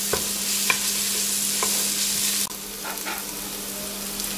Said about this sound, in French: on va faire revenir cela pendant 3-4 minutes